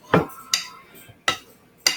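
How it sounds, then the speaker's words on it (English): A metal spoon clinks against a bowl while stirring oatmeal cookie dough, four sharp scraping knocks spaced about half a second apart, close and fairly loud. "use the metal spoon to blend this a little better"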